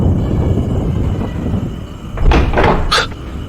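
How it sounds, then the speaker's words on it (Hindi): A door swings open with a couple of wooden knocks and thuds amid a loud, rushing wind-like background roar. "दरवाजा कैसे खुल गया अपने आप?"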